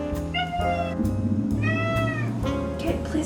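A house cat meows three times in short, close, plaintive calls spaced about a second apart, heard alone over a faint low background hum.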